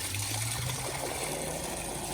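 Water rushing from a newly installed outdoor hose bib with a new shutoff valve beside a concrete patio, a dense, steady gushing hiss that stays loud and unbroken throughout.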